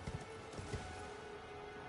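Horse hooves clip-clop in the Elden Ring video game, a few quick irregular thuds at the start and another around the middle, set over a steady, fairly faint ambient wash with no talking.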